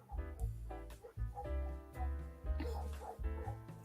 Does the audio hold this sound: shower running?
no